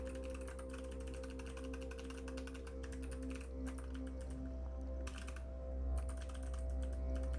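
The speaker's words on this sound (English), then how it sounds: "You can't see what I'm typing." Fingers tap rapidly on a computer keyboard during work on a vintage computer emulator, a quiet, steady clatter of keystrokes with a couple of brief pauses over a low background hum.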